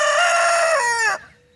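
A rooster crows close by, one loud sustained cock-a-doodle-doo that holds steady and then drops off sharply at the end, followed by quiet.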